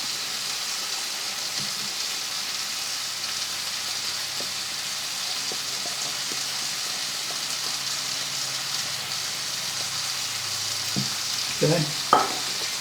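Pork chops browning in a frying pan give a steady, even sizzle that holds throughout, with a few brief clinks and scrapes near the end.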